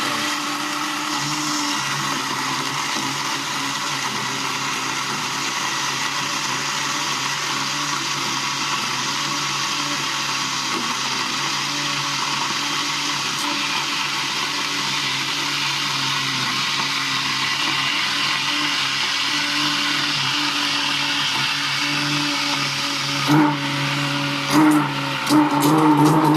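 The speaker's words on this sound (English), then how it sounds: "We're gonna use this food blender to chop it up in a sauce" Food blender chopping food into a sauce inside a pot, a loud continuous high-pitched whir running steadily throughout, with a few clattering bumps at the very end.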